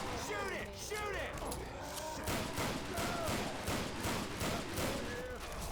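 Gunfire in Left 4 Dead 2 on Expert difficulty, as survivors fight a Tank: a rapid, repeated stream of shots runs through the clip, moderately loud, mixed with game noises and a voice-like sound near the start.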